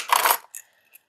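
Old loose keys from a box are jostled in one bright metallic jingling burst, followed by two brief, fainter clinks, close up in a quiet room.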